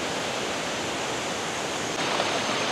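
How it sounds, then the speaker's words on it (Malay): Steady broadband rush of the Sungai Bil river flowing downstream at a campsite, constant and fairly close with no voices. "Dan ni sungai Bil. Dia akan mengalir terus ke bawah."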